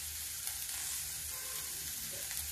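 Whole green chilli hits a kadai of peanut curry cooking in ghee, setting off a steady, dense sizzle and bubbling that runs unbroken throughout, close and fairly loud with no voices.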